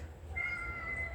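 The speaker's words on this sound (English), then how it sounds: "my cats are tripping." A house cat lets out a thin, drawn-out meow that holds steady for most of a second, faint against a low background hum.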